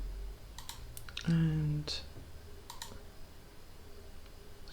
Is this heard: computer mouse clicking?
yes